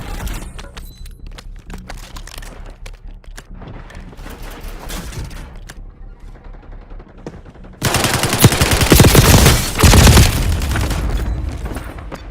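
Bursts of automatic gunfire in Call of Duty Warzone Mobile, with scattered shots at first, then a loud, dense, sustained volley of rapid fire and booms close up.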